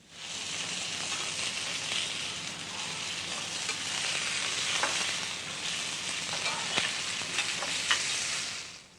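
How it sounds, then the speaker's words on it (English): Venison medallions seasoned with salt and pepper brown in olive oil in a pan, giving a steady close sizzle and spatter with a few sharper pops and no voices. "The medallions are seasoned with salt and pepper and then browned in olive oil."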